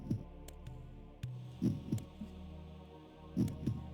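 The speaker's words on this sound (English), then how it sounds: "Otherwise, I'm just going to hear my own heartbeat for several minutes." A slow, heavy heartbeat in a video game, paired low thumps repeating at an uneven, laboring pace over a quiet droning hum, close and muffled.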